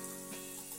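Beetroot and green chili frying with softened onions in a pan for Tamil beetroot poriyal, giving a steady close hiss of sizzling oil throughout, with no talk.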